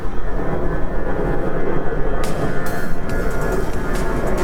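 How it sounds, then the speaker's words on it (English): An airplane passes overhead, its engine a steady, loud broadband roar that fills the whole stretch with no voices. "There is another plane."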